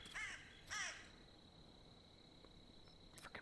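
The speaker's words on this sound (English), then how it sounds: "Frickin' bird." A crow in the video game Cursed Forest gives two harsh, fairly close caws in quick succession, followed by a faint hum and quiet ambient clicks, with no voices.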